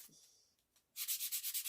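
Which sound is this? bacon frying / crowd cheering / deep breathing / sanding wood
sanding wood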